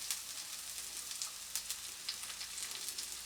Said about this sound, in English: Once you got your onions there cooking nicely, you're then gonna drop your garlic in there.